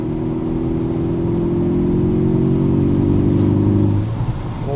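A 2012-era VW Golf R Mk6 engine drones steadily from inside the cabin while cruising, a loud, even low hum with a faint whir above it that eases off near the end.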